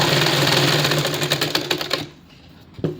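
A sewing machine stitches invisible piping around a round neckline, its rapid mechanical clatter running loud and close for two seconds before stopping, followed by near silence and a faint knock.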